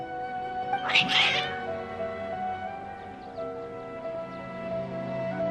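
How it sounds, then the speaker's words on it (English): Video game cats let out a short burst of agitated meowing and caterwauling near the start, set against a sustained musical drone and soft ambient tones. "Your cats seem pretty worked up."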